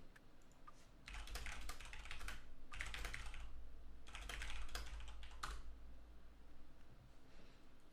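Computer keyboard typing in steady bursts of clicky keystrokes, close and moderately loud over a low background hum, with short pauses between runs.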